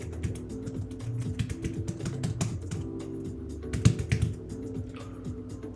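Rapid typing on a computer keyboard during a fluid mechanics study session, a dense run of close key clicks with brief pauses and a louder burst of strokes midway, no voice.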